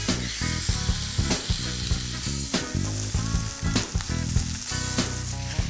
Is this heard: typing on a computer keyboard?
no